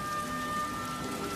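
Steady rain falls softly outdoors, a faint, even patter of drops with no voices or other sounds over it.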